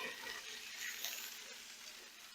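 Browned meat sizzling with a steady, dense hiss and faint crackling as it goes into a crock pot, close and continuous with no talking.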